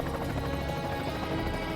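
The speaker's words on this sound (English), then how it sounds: "A helicopter flies over the Badlands." Helicopter flying over the Badlands, a continuous dense rotor and engine rumble, loud and steady throughout without any voices.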